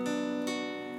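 A cleanly fretted guitar barre chord at the 5th fret, strummed once and then lightly re-struck, ringing bright and sustained, close and alone.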